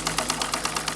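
A small steam tugboat engine with its boiler feed pump runs close by, producing a fast, steady mechanical chuffing beat of about eight even pulses a second over a low hum.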